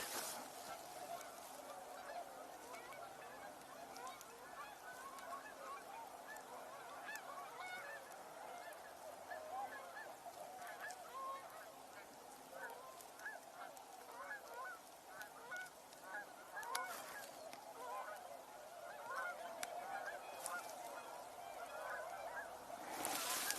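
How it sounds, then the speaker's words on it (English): A flock of ducks calls at a distance, a dense, continuous chorus of honking and quacking that rises and falls for over twenty seconds with no speech. "They're ducks by their size"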